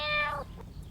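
A single cat meow, loud and close, falling in pitch and fading quickly into quiet background with no talking.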